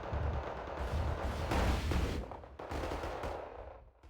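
Gunfire and bursts of automatic fire in the real-time strategy game Wargame, a dense, continuous battle din with a heavier cluster of shots mid-way before easing off toward the end.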